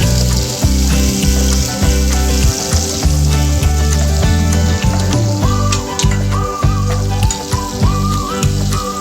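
Onions frying in a pan for an Indian home-cooked dish, a steady close sizzle running continuously beneath loud, rhythmic background music with no talking.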